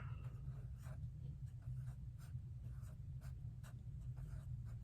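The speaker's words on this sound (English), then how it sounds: "I forgot to write September on there" A pen scratches softly across a small paper craft tag in short strokes, faint and close over a steady low background hum, with no voices.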